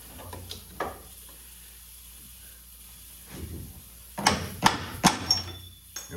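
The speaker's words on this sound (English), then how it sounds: "We'll grab a claw hammer, and these are pointed bolts, so it's okay to hammer on them." A claw hammer taps on pointed suspension bolts of a 2007 Chevy Silverado: a couple of light knocks, then a quick cluster of four or five sharper metallic hits near the end.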